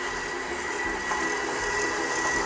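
A stand mixer beating room-temperature butter and sugar for snickerdoodle cake batter, giving a steady, fairly quiet motor whir with a faint high hum and no talk.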